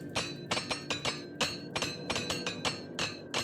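A quick series of metallic hammer taps rings out while equipment is repaired in The Elder Scrolls IV: Oblivion, about a dozen sharp, bright clinks in a fairly even rhythm, close and clear with no talking.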